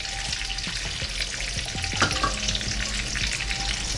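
Bacon frying on a Range Mate Pro gives off a steady, close sizzle and crackle, with small pops and scraping touches as the strips are turned; no one talks.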